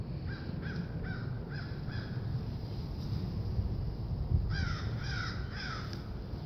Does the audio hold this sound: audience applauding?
no